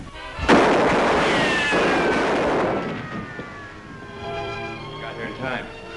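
A gunshot cracks sharply in a western TV show, followed by a rumbling decay, with dramatic music and voices carrying on afterward.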